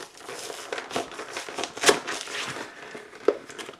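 Close crinkling and crackling of plastic and cardboard packaging as a Magic The Gathering 2017 Gift Box is opened, with irregular rustles and a couple of sharper tearing snaps.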